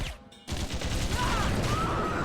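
Machine gun fire in the game Iji, dense rapid bursts that start after a brief lull and continue loud and steady, with electronic whines rising over the shots.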